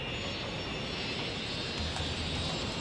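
Airplane engine in the Cities: Skylines video game, a steady, loud, continuous roar holding constant throughout with no breaks.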